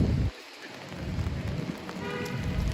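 Heavy rain storm in Manhattan, New York City, a steady dense hiss of falling rain filling the scene after a brief drop at the start, with no voices.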